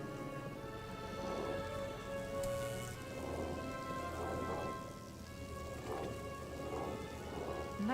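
Steady heavy rain falls through a video game thunderstorm in Krokotopia, with low thunder rumbles rolling under the dense patter and faint tonal game music, continuous and fairly loud.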